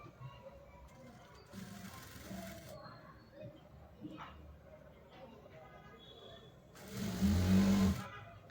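A sewing machine stitches folded cloth for a kurti or churidar in two short bursts of rapid mechanical whirring, the second louder and closer, separated by quiet handling sounds.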